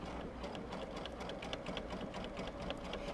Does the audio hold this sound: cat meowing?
no